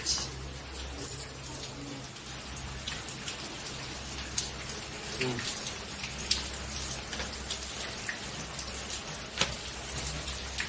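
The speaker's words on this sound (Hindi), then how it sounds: "वर्षा ढालु" Heavy monsoon rain pours steadily on a rooftop or surface, dense hiss with scattered louder drops, while pigeons coo faintly in the background and a voice speaks briefly.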